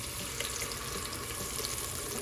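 Liquid is poured steadily into a pan holding palm oil on a gas stove, making a continuous broadband rushing splash for a couple of seconds with no talking.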